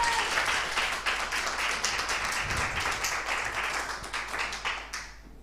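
A church congregation bursts into sustained applause in acclaim of God, dense crowd clapping filling the room at steady loudness before tapering off at the end.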